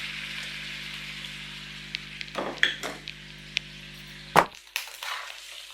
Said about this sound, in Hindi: इसके अंदर हम ये अपना मटन डाल देते हैं और इसको फ्राई कर लेते हैं